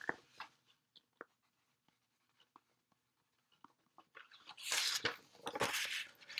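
A pen scratches notes onto paper in a ukulele lesson, with short faint strokes early on, then louder, busier scribbling and rustling near the end.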